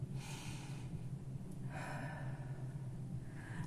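A slow, deep breath drawn in and let out, soft and close, as the opening to a calming grounding exercise, with a faint steady hum behind it.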